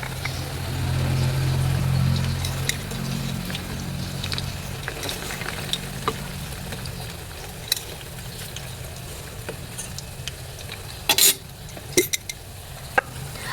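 Sugar sizzling in hot oil in a pan while making banana cue, a steady frying hiss that fades a little, with occasional clinks and pops.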